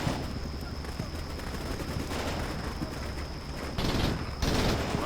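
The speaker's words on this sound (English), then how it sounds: "See just how effective this return fire is going to be." Bursts of automatic return gunfire crackle in the modern military video game Combat Mission Shock Force 2, with a sustained rattle, then two louder volleys near the end, under a faint steady electronic tone.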